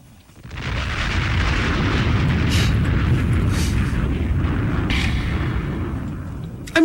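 A bomb blast effect on a radio talk show: a big explosion that swells into a loud, sustained rumbling roar lasting several seconds. Faint crackles sit on top, and the blast fades slightly before a sudden sharp burst at the close.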